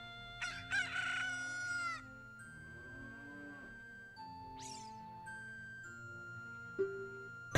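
Cuccos in Ocarina of Time let out a shrill, drawn-out cluck and crow near the start, then a higher squawk and a short chirp, all set over steady game music.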